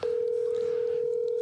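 A phone call rings out with a single steady electronic tone held unbroken and close, clear over faint background hiss.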